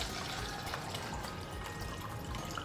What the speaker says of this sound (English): So I'm going to pour a little bit of water or a lot of bit of water